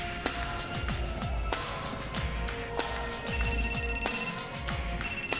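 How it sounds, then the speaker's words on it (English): A cell phone rings in a visual novel game, sounding as two bursts of rapid, trilling electronic tones over quiet background clicks and soft ambient tones. "my cell phone rang"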